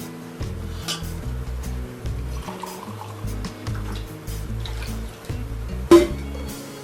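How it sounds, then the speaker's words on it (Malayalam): Water pours into a pan of rice batter being made for soft velleyappam, a steady liquid fill with soft clinks of utensils against the pan, close and moderately loud, with no talking. "ഒരു ഒന്നര ഗ്ലാസ് വെള്ളം കൂടെ ഒഴിക്കാം"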